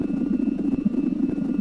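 A player-built helicopter hovers in the video game SimplePlanes 2, giving a steady, close engine drone with a low rhythmic rotor pulsing and a thin high whine, alone with no talk.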